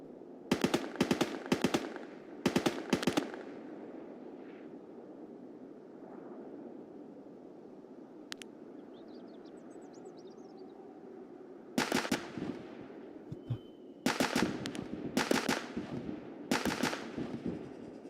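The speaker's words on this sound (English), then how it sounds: "Who the hell just shot at me, dude?" Gunfire in the shooter Escape from Tarkov, sharp rapid bursts of automatic shots in several clusters separated by quieter stretches, fairly close and loud.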